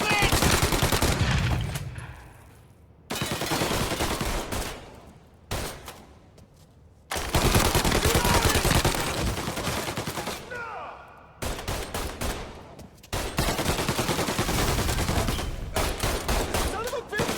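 Gunfire in the Mafia Definitive Edition video game: long stretches of dense, loud rapid shooting and machine-gun bursts broken by brief quieter gaps, with game dialogue voices occasionally mixed in.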